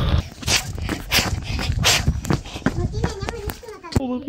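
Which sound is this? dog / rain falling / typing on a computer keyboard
dog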